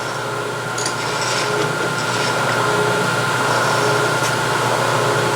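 A milling machine spins an inch end mill at about 800 RPM, giving a steady mechanical hum and whir with faint ticks, continuous and close, with no talking.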